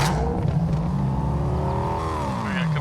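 A vehicle engine droning steadily while driving in Fortnite, with a continuous loud motor hum whose pitch climbs and shifts as the vehicle accelerates.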